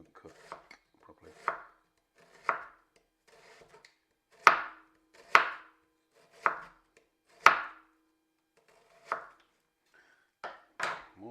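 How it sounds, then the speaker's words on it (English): A knife chops ingredients very thinly on a board while a pizza is being made: a series of about ten crisp, separate chops with irregular pauses, close and clear, with no talk. "just chop it super thin as you can, otherwise it won't cook properly."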